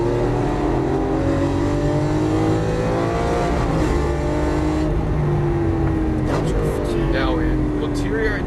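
A Lamborghini Aventador LP700-4 accelerates hard on a racetrack, its engine droning loud and steady with rising and falling pitch as it pulls through the gears, while a voice speaks over it.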